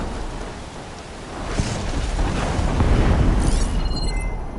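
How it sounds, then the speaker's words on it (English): Rain pours steadily in a Horizon Forbidden West thunderstorm while a deep roll of thunder swells and rumbles through the middle, loud and enveloping, fading near the end. "The air's crackling with those storm clouds looming."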